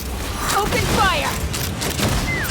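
Video game battle gunfire from Genshin Impact, a dense jumble of shots and mechanical clatter with shouting voices over it and whistling streaks through the middle.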